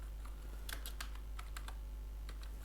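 Quick bursts of keystrokes on a computer keyboard, typing a recipe into a chat prompt, close and clear over a steady low hum, with brief pauses between clusters of taps.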